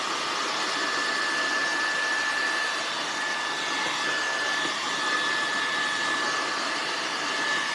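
Hair dryer blowing steadily on a rustic handmade snowman Christmas craft, a constant close airy roar with a faint whine running throughout, no talking.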